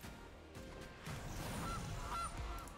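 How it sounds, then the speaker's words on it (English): Goose honks from a video game, a few bright honks standing out over a dense, busy game soundscape with steady background noise. "Another goosey goose."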